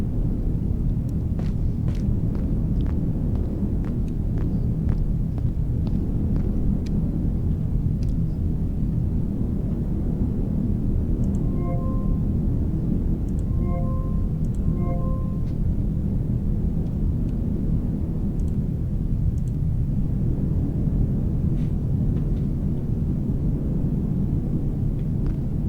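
A storm rumbles in the Heat Death Survival Train video game, a loud, steady low roar with crackling bursts throughout and a few brief tonal beeps midway.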